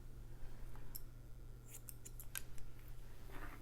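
Scissors snipping dry hair during a pixie cut, a quiet series of short crisp clicks clustered in the middle, close and alone over a low steady room hum.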